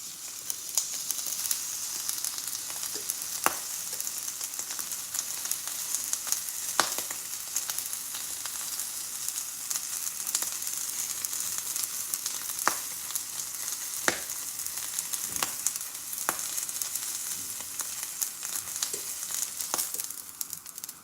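A steak's fat cap sizzles steadily in a hot pan, a continuous loud frying hiss with occasional sharp pops and crackles and no talking.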